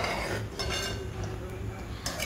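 A spoon scrapes and clinks against a pot while sweet payasam made with roasted moong dal is stirred. The strokes sound intermittent and close, with a few sharper metallic taps.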